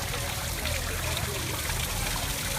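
Steady trickling and splashing of water from a garden water feature at a butterfly garden, continuous and fairly close, with no voices over it.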